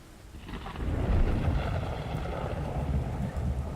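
A deep, rolling rumble of thunder rises after a quiet start and lingers loudly for several seconds, a sound effect meant to crack just above the top of a well.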